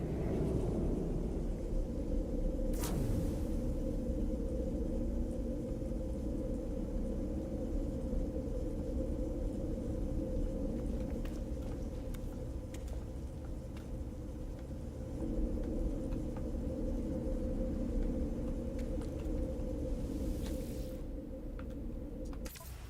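A storm in the space game No Man's Sky, heard as a steady deep rumble and roar of wind that runs unbroken throughout, with a few sharp cracks rising out of it.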